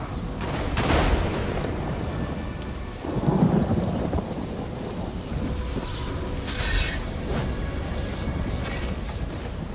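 Thunder from a lightning attack in The Elder Scrolls Online rolls and booms over a steady rain-like hiss, with heavy rumbling bursts near the start and again around the middle, no voices.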